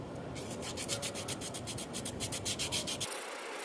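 A battery cable termination point on a Case 310G dozer being shined down to bare steel, a close rhythmic rubbing and sanding scrape that ends abruptly, with no voices.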